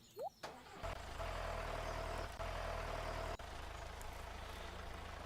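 A tractor engine idles in the Stardew Valley farming game, a low steady rumble with a brief start-up at the beginning and a short break partway through, heard alone.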